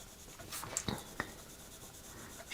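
A pencil sketches and shades on paper, faint close scratchy strokes with a few sharper taps, quiet and unaccompanied by talk.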